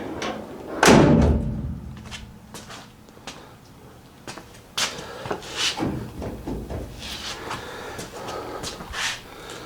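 Car door on a 1968 Camaro resto-mod with a newly fitted latch and adjusted striker, closing with one solid slam early on, followed by lighter clicks and handling noises in a garage.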